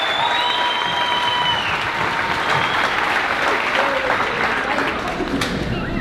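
An audience at a 5th grade moving-up ceremony at Maplewood claps and cheers for the graduating students, a dense, loud, sustained round of applause with scattered whoops and a voice speaking over it.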